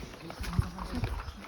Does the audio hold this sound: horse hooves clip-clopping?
yes